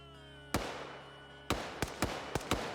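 Gunshots ring out in a video game firefight, one sharp report followed after a pause by a burst of five more irregular cracks, each with a lingering echoing tail.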